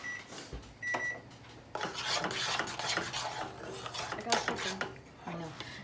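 Homemade play-doh being stirred in a pot, with a spoon scraping and rubbing against the metal in uneven strokes, close and fairly quiet.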